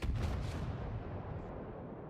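A weapon fires a burst in the vehicle-building game From The Depths: several heavy booming shots in quick succession at the start, then a long rumbling decay, fairly distant and faint.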